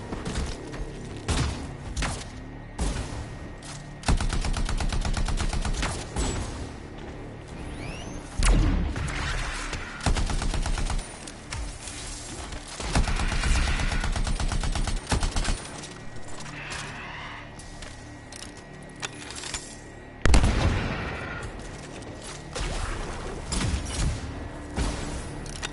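Busy video game combat soundtrack with repeated bursts of gunfire, heavy thuds and crashes, loud and dense throughout, with layered effects and a strong impact near the end.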